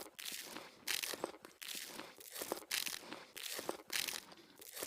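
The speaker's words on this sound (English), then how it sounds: "Sorry for all the terrible crunching." Footsteps crunching in Satisfactory, a rhythmic, close crunching and crinkling repeating roughly every second, fairly quiet and with no talking.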